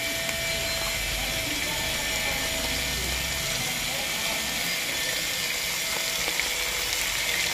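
Dried fish (daing) frying over a wood fire, a dense steady sizzle and crackle with faint clicks throughout, close up, with voices in the background.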